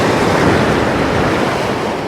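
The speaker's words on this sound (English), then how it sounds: "Hope you can hear me above the noise of the wind here" Strong wind roars across the microphone at Philorth Beach in Aberdeenshire, mixed with a constant wash of surf, loud and close with no talk.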